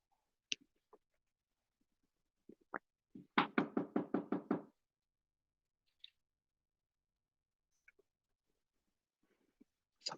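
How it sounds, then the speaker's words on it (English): A burst of about seven quick, evenly spaced knocks on a door, close and fairly loud, standing alone in an otherwise quiet room with only a few faint scattered clicks around it. "Somebody's knocking on my door."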